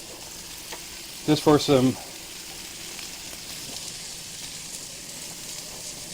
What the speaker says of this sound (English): I'm going to throw in a few pads of butter